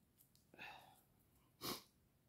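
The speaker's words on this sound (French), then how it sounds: "Je m'excuse, j'ai encore j'ai éternué, j'ai le nez qui coule." A person sneezes twice while doing a card-sketch craft, first a softer sneeze, then a sharper, louder one about a second later, with quiet room noise between.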